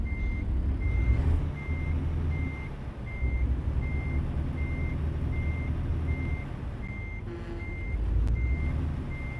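A truck in American Truck Simulator reverses with its backup alarm sounding, a steady series of evenly spaced beeps that is clear but not loud above a deep rumbling engine drone.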